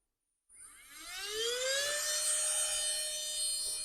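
A rechargeable battery pump for an inflatable pool donut starts up after silence, its motor whine rising in pitch and then holding a loud, steady, tonal hum with no speech.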